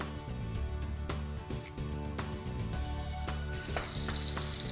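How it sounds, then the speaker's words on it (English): Hands being washed under running water in a cold room, a steady hiss and splash of the tap with small clatters and a brighter surge of water near the end. "This guy's filming me washing my hands"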